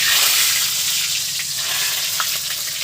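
Large potato pieces fry in hot mustard oil for a mutton curry, giving a loud, steady, hissing sizzle throughout.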